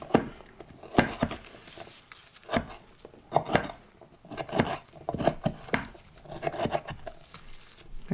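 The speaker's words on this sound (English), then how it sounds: "These are not quite as sticky as the dates. A lot easier to chop." Knife chopping dried apricots on a board in quick, irregular bursts of crisp taps, fairly close and moderately loud, with short pauses between runs of cuts.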